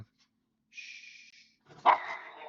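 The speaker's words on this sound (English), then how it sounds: "My dog went crazy when she saw the neighbors walking peacefully down the sidewalk" A dog barks at neighbors passing on the sidewalk, giving a short faint whine followed by one sharper, louder bark, muffled and at some distance.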